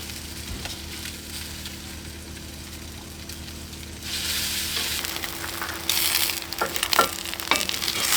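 Eggs sizzle in a pan on a camping stove outdoors, the frying hiss swelling louder partway through, with occasional clinks and scrapes of a utensil close by.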